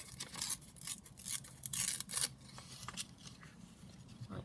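Paper is torn by hand for a junk journal made from an altered Old Mother Goose book, close and dry, in short ragged rips and rustles that trail off into quieter handling.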